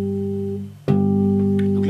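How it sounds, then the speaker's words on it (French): Bass guitar natural harmonics, one on the fifth fret of the lowest string and one at the third fret of the first string, ring together as steady sustained tones, briefly cut then struck again and left sounding. "Tu te mets sur la troisième case, première corde, et tu joues l'harmonique de la 5e case sur la dernière corde."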